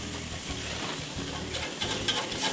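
Food sizzles steadily on a hot grill with a constant crackling hiss and a few brief louder pops, close and even throughout with no voices.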